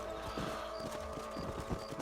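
Horse hooves clip-clopping in the video game Red Dead Redemption, a steady rapid trot of several beats under a constant background bed, moderately close with no talking.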